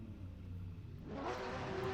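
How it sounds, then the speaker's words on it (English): Open-wheel race cars on the grid at Phillip Island revving their engines before the start, a broad rumbling engine drone that swells louder and rises in pitch toward the end. "Drivers are revving their engines."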